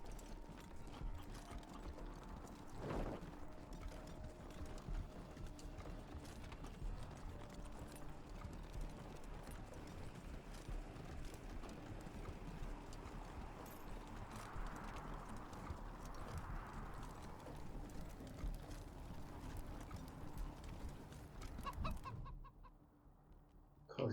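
Robot chicken in the Wasteland 3 video game clucking and pecking, with a busy mechanical, gear-like clatter running steadily under game ambience, then cutting out near the end.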